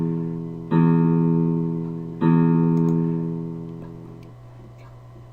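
Open low E string on a guitar in standard tuning, plucked twice, each note ringing out and slowly decaying, clear and close with a faint background hum.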